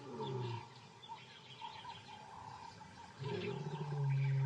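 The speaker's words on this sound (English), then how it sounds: "Zyra can hear her brothers roar to identify their location." White lions roar about two miles off, low rumbling calls rising faint and distant out of ambient outdoor noise with a few bird sounds, the deeper roar swelling louder toward the end.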